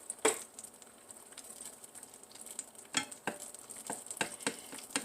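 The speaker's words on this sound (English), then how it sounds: "I'm just going to fry this egg and put my sandwich together." An egg frying in butter in a home kitchen pan, giving a soft, steady sizzle with a few sharper crackles and pops and light utensil clinks.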